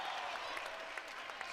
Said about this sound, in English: they cheer like it was them that caused Penn State to win that point